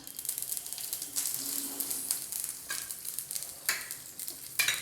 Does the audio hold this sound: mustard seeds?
yes